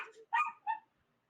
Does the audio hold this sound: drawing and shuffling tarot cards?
no